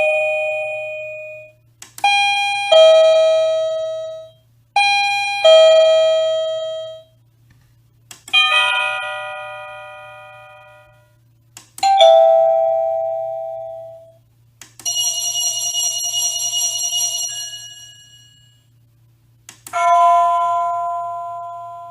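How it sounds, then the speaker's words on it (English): SadoTech Model C wireless doorbell playing a series of electronic music chime tones, each ringing out and decaying, with a steady low hum underneath and brief pauses between melodies. "If you want to have a different ringtone for your transmitter, first change your doorbell's chime."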